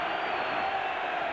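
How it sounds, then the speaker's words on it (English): A large football stadium crowd at a Michigan versus Wisconsin college game roars in a broad, steady wash of cheering, distant and continuous throughout. "All right, the crowd is up."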